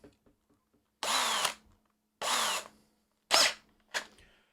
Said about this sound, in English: So now I have all my holes drilled.